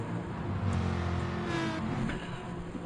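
Race cars in the GT Sport game roar off from a rolling start at the Brazil circuit, a dense, steady wall of engine drone with rising revs and overlapping passes, loud throughout with no talk.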